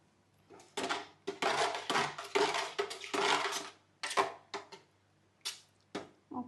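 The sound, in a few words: stirring yogurt mixture in a bowl for perugu vada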